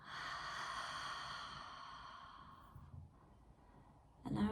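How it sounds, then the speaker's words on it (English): A long, deep breath out during a guided breathing exercise, close and soft, fading over a few seconds before a brief rustle at the end. "Exhale."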